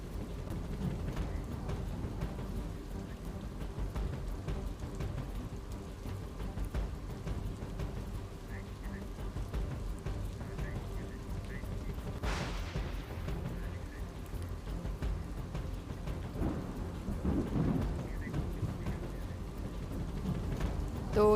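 Heavy monsoon rain pours steadily in Gujarat, a constant dense hiss, with a sharp crack of thunder breaking in about midway and a faint low rumble later.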